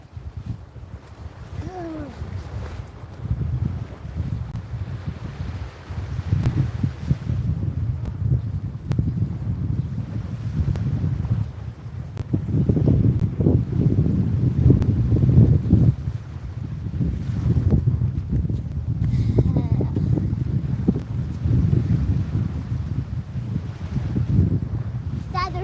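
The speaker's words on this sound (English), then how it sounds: "Wow, the wind is picking up, guys." Strong wind buffets and roars steadily on a boat out saltwater fishing off northeast Florida, a continuous low rushing that swells louder midway, with occasional faint voices underneath.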